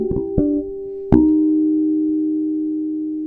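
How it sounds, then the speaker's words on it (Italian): On a bass guitar, an artificial harmonic of D sharp follows two short plucked notes, ringing as a clear, bell-like tone that slowly fades. "quando Giacomo suona un armonico di Re diesis, utilizzando appunto questa tecnica."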